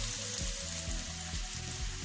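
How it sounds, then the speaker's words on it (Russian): Steady sizzling of potato and meat patties frying over medium heat in a hot pan, with soft crackles and a few light scrapes, close up and continuous. "Обжариваем на среднем огне со всех сторон"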